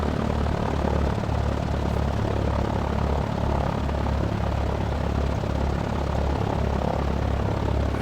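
A tail-dragger propeller airplane engine in the X-Plane 11 flight simulator drones steadily and loudly throughout, with a constant broadband hum and no voices.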